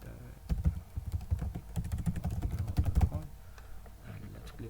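Rapid, irregular clicking of keys on a computer keyboard as an email address is typed in, close and steady for a few seconds before trailing off.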